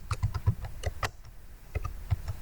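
Irregular bursts of clicky keystrokes on a computer keyboard, close by, with brief pauses between clusters of taps.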